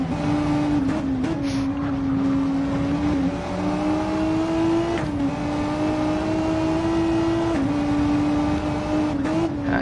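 A racing car driving on track during a race, its engine droning close and steady with shifting pitch through gear changes and cornering, loud and continuous throughout.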